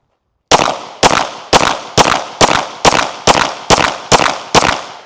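Ten rapid, evenly spaced pistol shots ring out loud and close from a stock agency-issued handgun fitted with a Surefire X300 weapon light and a Holosun 509 sight, each sharp crack followed by a short decay, with no talking.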